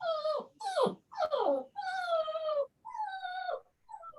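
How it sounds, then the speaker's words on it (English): A dog whimpers and whines in a run of about six high, drawn-out, wavering cries separated by short gaps, fairly close and with no other sounds around it. "Who's killing a dog?"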